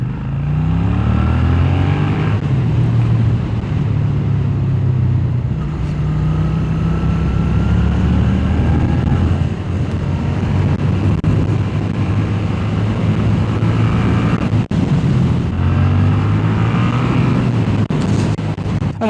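A Suzuki Gladius 650 twin-cylinder motorcycle rides through curves, its engine loud and close, rising and falling in pitch through repeated throttle swells and gear changes, with wind rush underneath.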